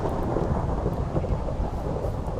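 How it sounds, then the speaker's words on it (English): A steady, heavy rumble of thunder with rain in Minecraft, continuous and dense throughout, with no voices. "I guess I heard thunder"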